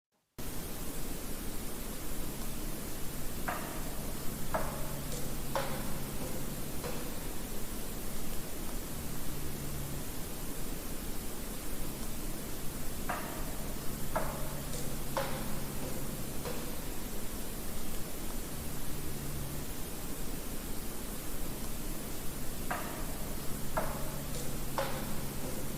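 Percussive tapping heard in three groups of several sharp knocks each, evenly spaced across a woodland field recording with a steady hiss and low hum underneath.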